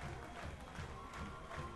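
Home crowd at a packed Linn-Mar high school football game roars and cheers after a touchdown against Washington, a steady dense wash of voices with a marching band in the stands.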